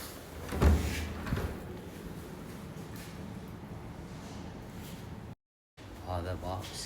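A secret door in a diwaniya of a three-storey house with a basement in Khaitan swings open with a firm knock near the start, followed by a steady room hum while a voice talks over it.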